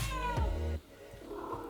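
A house cat gives a loud, drawn-out meow close by, followed by a quieter trailing vocal sound. No one speaks.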